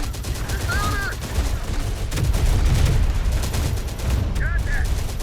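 Gunfire rattles in Terminator: Dark Fate – Defiance, a real-time tactics game, as sustained bursts of automatic fire and heavy booms swell and ebb, with short radio-like voice callouts mixed in.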